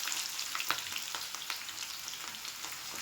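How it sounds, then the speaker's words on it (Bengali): Chopped onion sizzling in oil in a pan, a continuous crackling fry with a few stirring scrapes, close up and alone without voices. "তো আমি এখানে পেঁয়াজটা অ্যাড করে দিলাম, কিছু কুচানো পেঁয়াজ"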